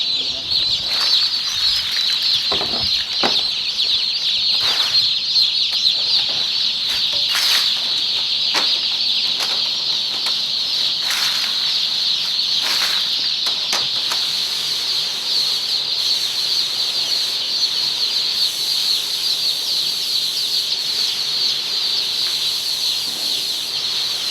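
Hens crowded together in a poultry facility give off a dense, constant chorus of clucking and squawking with bursts of wing flapping, loud and unbroken, with no voices.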